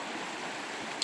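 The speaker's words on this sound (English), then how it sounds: "There's a nice little stream over here." A nice little stream flows through Catskills wilderness forest, a steady, broad, close rushing burble of water with no other sounds.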